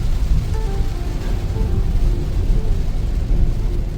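A downpour pounds a car on a road trip through Bastar under a red alert, producing a thick, constant wash of rain noise with a low rumble of the vehicle beneath.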